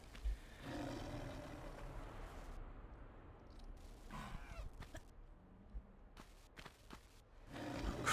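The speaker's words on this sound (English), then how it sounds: "I hear monkey, but don't see monkey." Monkey calls in the Tomb Raider game: roaring, screeching animal cries and rustling bursts recur across a busy game soundscape, fairly loud and without speech.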